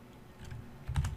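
Typing on a computer keyboard while coding a web project, a quiet run of soft key clicks that builds to a slightly louder cluster of strokes near the end, close and with no voice.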